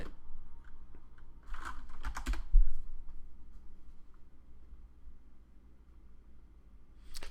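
Taps on an Apple split keyboard come in faint scattered clicks, with a brief louder cluster near the middle and a quiet background.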